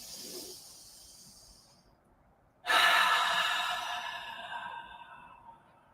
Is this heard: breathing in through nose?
yes